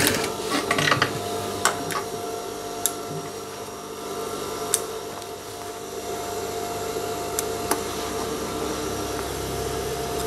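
A sewing machine stitches a straight side pocket on a pair of trousers, with steady mechanical whirring and ticking and a few sharp clicks throughout.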